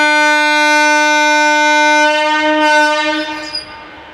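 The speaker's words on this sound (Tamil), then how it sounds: "ஈரோடு எக்ஸ்பிரஸ் கிளம்புது" A Trichy–Erode Express pulled by twin locomotives, a WAP-1 in the lead, departs Trichy Junction with a loud, sustained two-tone horn blast that holds steady for about two seconds, then fades into rumbling wheels and a few short horn echoes.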